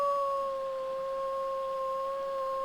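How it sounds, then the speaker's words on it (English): Spirit wolves in ARK: Survival Evolved on the Ragnarok map give a sustained, steady howl that holds a clear, nearly unwavering pitch throughout, loud and alone over a quiet background. "There we go, so there's a spirit beast and spirit wolves."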